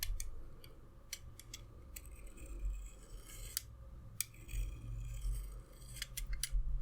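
Scissors snip repeatedly in close, sharp bursts, a series of crisp metallic cuts spaced irregularly over a low steady background hum.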